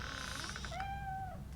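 In RoboCop Rogue City, a cat lets out a drawn-out, wavering meow that rises and then trails off, heard over steady background game ambience with no speech.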